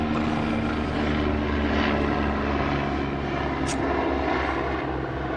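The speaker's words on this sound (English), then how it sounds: "Please hold. Helicopter." A helicopter passes overhead, a loud, steady rotor-and-engine roar that holds throughout the few seconds with no talking.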